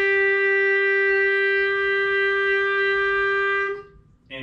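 A clarinet sounds the note A in a student lesson, held as one steady, clear tone for nearly four seconds before it cuts off into near silence.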